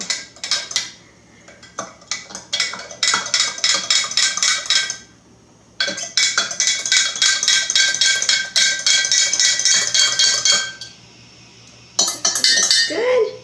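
A spoon clinks and scrapes rapidly against a container while bee feed is mixed, with dense bursts of metallic tapping, short pauses and a final flurry, close up.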